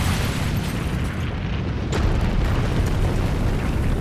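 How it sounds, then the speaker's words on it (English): Explosions from the Tsukihime Remake detonate in rapid succession, merging into a dense, continuous roaring boom that stays loud and heavy throughout. "they detonate in rapid succession"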